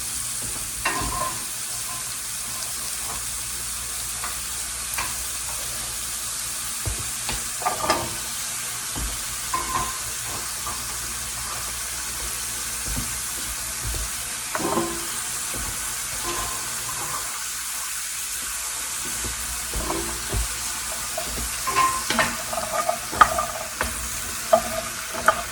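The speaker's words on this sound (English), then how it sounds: "we're just cooking these mushrooms just for a minute" Mushrooms sizzle and fry steadily in a pot for a bacon beef stew, a continuous hiss broken by scrapes and clacks of stirring, close and fairly quiet with no talking.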